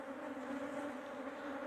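Dense, steady buzzing of many honey bees at a strong, populous hive colony during swarm division, a continuous close drone with no pauses or voices.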